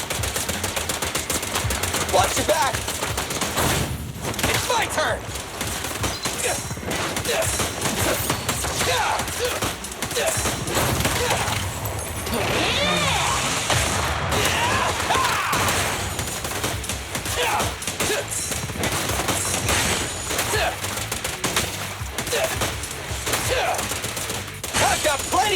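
Rapid, sustained bursts of automatic gunfire crackle through a Zenless Zone Zero battle, loud and dense with scattered impacts and thumps, while voices call out intermittently over the shooting.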